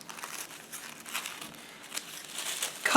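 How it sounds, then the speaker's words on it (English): Tissue paper being cut into a strip, a soft continuous crinkling and rustling of thin paper close by, with a slightly louder crackle at the end. "Cut a strip of tissue."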